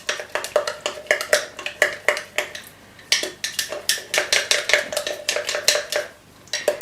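A spoon clinks and scrapes steadily inside a jar while sourdough starter of flour and water is stirred thick, the knocks close and rhythmic with a brief pause midway.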